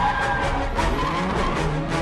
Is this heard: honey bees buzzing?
no